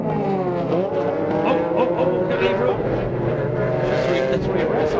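GT race cars at speed at the 2000 Monterey Sports Car Championships in the American Le Mans Series, with Dirk Mueller's number 50 car trying to pass. Loud, continuous engine roar with shifting pitch, under a commentator's voice.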